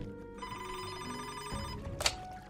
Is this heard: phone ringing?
yes